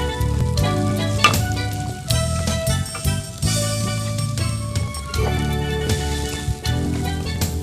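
Shrimp and wheat flour stir-fried in a pan on an Indonesian cooking show, a steady loud sizzle with scraping and light clinks of the stirring utensil throughout.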